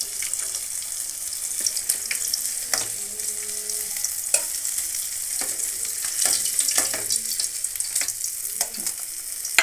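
Mackerel coated in rava frying in a pan, a steady soft sizzle with intermittent stirring scrapes and clinks, plus occasional running-water sounds, fairly close and without talk.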